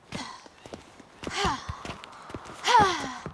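Ciri from The Witcher 3 runs, panting in heavy, rhythmic breaths and gasps, with footsteps thudding underneath as the effort sighs come in close bursts.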